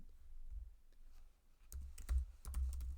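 Keys clatter on a computer keyboard in a run of quick, close clicks that start slowly and then grow busier and louder, with no talk.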